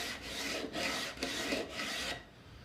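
Coarse 36-grit sandpaper rasping back and forth across wood by hand, four long even strokes in a steady rhythm, close and fairly loud, with no voices.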